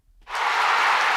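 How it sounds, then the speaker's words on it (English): A crowd cheers and applauds as a sound effect, swelling in from silence to a loud, sustained roar of many voices and claps. "crowd cheering"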